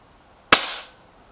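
One sharp, loud crack from an Artemis P15 air pistol, cutting in abruptly out of near-silence and leaving a short hissing tail.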